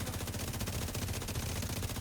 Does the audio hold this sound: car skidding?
no